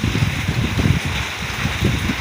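Steady rain falling through a long rainy day, a continuous broadband wash of drops with low rumbling gusts and wind buffeting the microphone, fairly loud and unbroken throughout, no voices.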